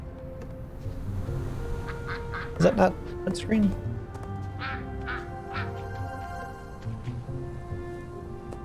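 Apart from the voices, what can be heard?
ducks quacking in the video game World of Warcraft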